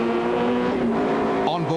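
A rally race car flat out on a Toyota Dealer 400 stage in 2003, its engine droning steadily and loud at around 140 km/h, the pitch dipping and shifting near the end, with a voice talking over it.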